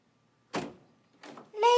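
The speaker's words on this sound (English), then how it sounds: "the hallway door suddenly opens, and young Eleanor Blessing appears" A hallway door opens in a radio drama: two brief, close knocking or thunking bursts, then a bright, tonal creak or squeak rising as it swings.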